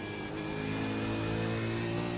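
A race car engine in iRacing holds a steady high-revving drone through a lap at Silverstone, loud and continuous with strong engine harmonics and no talk over it.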